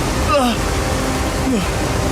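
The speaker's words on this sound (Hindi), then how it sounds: "असल में पानी बार बार घूम रहा है" Water swirls and churns in an underground cave, a steady broadband rush with a couple of brief gurgling sweeps, close and fairly loud.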